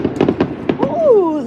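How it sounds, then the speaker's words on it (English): Fireworks burst outdoors as a quick run of loud, close popping cracks, followed by a sliding whistling tone that bends downward. "Ooh, look at the fireworks."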